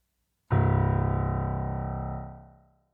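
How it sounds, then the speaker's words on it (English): A single deep piano note, C1, the lowest C on the keyboard, struck once and left to ring, its rumbling tone slowly decaying over a couple of seconds before fading out. "The lowest C note on a piano is called C1. That sounds like this."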